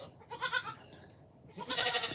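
A Nigerian pygmy fainting goat named Maple bleats twice, each call a wavering, nasal cry lasting about half a second, with a short quiet gap between them, close and fairly loud against faint outdoor background.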